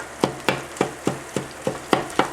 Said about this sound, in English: I'm browning 2 pounds of pork sausage.